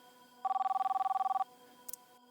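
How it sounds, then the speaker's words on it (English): A telephone rings once in a single burst of rapid electronic trilling, loud and close, followed by silence and a brief faint click. "The realtor picked up the phone on the second ring"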